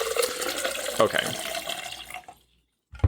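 Tap water running steadily into a glass for a drink, a close hissing pour that stops abruptly, leaving a brief silence before a soft knock; a voice murmurs a word over the stream.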